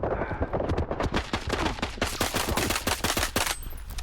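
Rapid automatic gunfire from the player's weapon in the video game S.T.A.L.K.E.R. 2, a dense run of close, loud bursts with a brief pause near the end.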